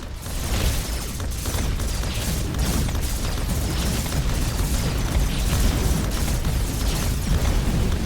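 Continuous rumbling missile explosions in the space strategy game Hyper Empire, dense overlapping booms and bursts rolling on steadily without pause, with no voices.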